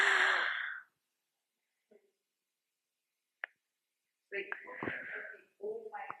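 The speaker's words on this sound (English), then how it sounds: "it's a very short and a staccato one" A person demonstrates a gasp of fear in a classical dance workshop: one short, sharp, breathy intake at the start. Silence and a couple of faint clicks follow before a voice begins speaking.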